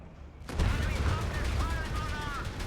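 Machine gun bursts from a Greyhound armored car in Company of Heroes 3 crackle in a dense rapid stream amid battle noise, loud and sustained after a brief quiet lead-in, with commentary underneath.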